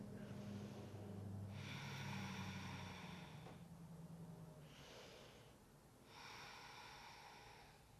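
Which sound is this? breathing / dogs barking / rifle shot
breathing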